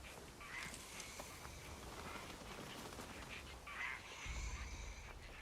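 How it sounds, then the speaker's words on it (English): Ducks and other birds in Assassin's Creed Shadows quack and call steadily over a dense wash of ambient game sound, with a slightly louder burst near the end. "Look at all the birds."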